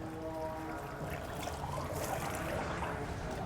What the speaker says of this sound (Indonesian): kita siram dulu bagian kepala dan meratakan air seluruh tubuhnya mulai dari arah sebelah kanan